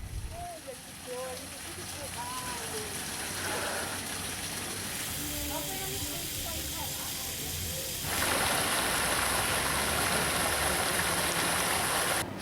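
Spring water flows steadily into a pipe, a continuous rushing gurgle that grows louder and brighter later on, while someone speaks over the flow.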